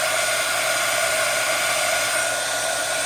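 A hair dryer blows steadily and loudly at close range, drying a junk journal cover finished with walnut stain and an oxide effect, one continuous even roar with no talking.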